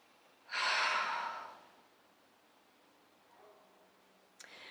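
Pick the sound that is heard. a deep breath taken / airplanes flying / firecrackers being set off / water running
a deep breath taken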